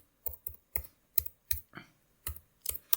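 Someone types on a computer keyboard with quiet, irregular clicks and key taps in short bursts, close and soft, with no talking.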